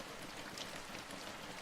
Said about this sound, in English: Rain begins to fall, drumming steadily on the thin roof.